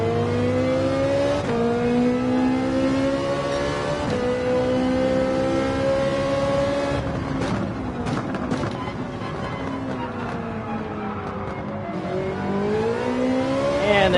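A Ferrari in Gran Turismo 7 accelerating hard through races, the engine note climbing in long rising sweeps, dipping for shifts and braking, then winding up again, steady and loud throughout.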